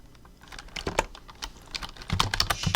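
Keystrokes on a computer keyboard while entering Japanese text, a steady run of close, crisp clicks with uneven rhythm and a denser burst near the end, no voices.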